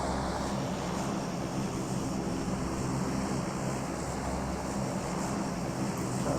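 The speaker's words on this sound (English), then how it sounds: "You can always tell when the plane is coming right at you." Propeller airplane from a battle royale video game, a steady low engine drone holding at constant loudness throughout with no talk over it.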